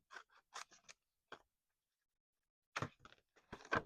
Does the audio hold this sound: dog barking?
no